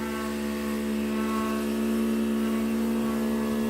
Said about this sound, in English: the pump's just kicked back in